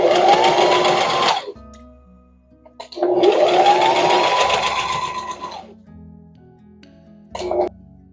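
A sewing machine stitches patchwork pieced from old clothes, with two sustained whirring runs of stitching separated by a pause, then a short final burst, loud and close.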